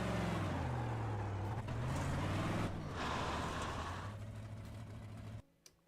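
Big block modified race car in a racing video game, engine droning loudly and steadily along the track with shifting pitch, then cutting off abruptly near the end.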